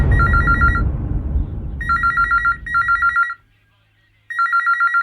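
A telephone rings in bursts of bright trilling tones, the first layered over a low rumbling background, then two more back-to-back rings, a short pause, and another ring starting.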